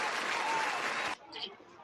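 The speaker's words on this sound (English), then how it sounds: "We got the live claps." A burst of dense clapping applause plays as a sound effect, then stops abruptly, leaving faint chatter behind it.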